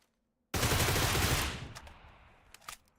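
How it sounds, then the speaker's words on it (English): Automatic rifle fire in a PUBG console match: a loud, dense burst of rapid shots lasting about a second, then a decaying echo tail with a few faint later cracks. "We're shooting with 10 bullets, so we go on."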